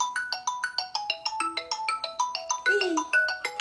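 A mobile phone ringtone plays a quick, repeating melodic pattern of bright electronic notes, close and clear, with no talking over it.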